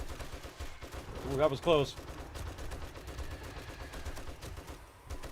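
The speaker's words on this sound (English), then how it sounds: "I just keep shooting them until they don't get up." Gunfire from shooting zombies in the video game 7 Days to Die, a steady stream of rapid shots under game noise, with a brief sharper burst midway as a man reacts aloud.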